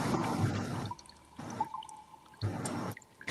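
Water drips inside a cave as background ambience for a tabletop roleplaying session, with bursts of wet, splashing noise broken by quieter gaps that hold single echoing drops.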